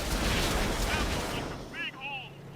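Tank gun firing in a tank video game, the Leopard tank's shot a loud, booming blast that rolls off into a fading rumble over about a second and a half, with a voice talking over it.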